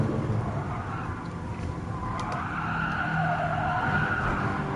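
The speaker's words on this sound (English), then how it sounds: "Let those tires squeal" Car tires screeching and skidding in the racing game Gran Turismo Sport, played with a steering wheel, a steady sustained squeal over a continuous engine roar.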